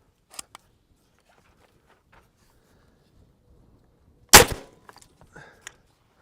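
A single sharp, loud airgun shot from a Southwestern Airguns SWA FD-15T at an outdoor airgun expo, then faint clatter and small clicks, with quiet stretches before it.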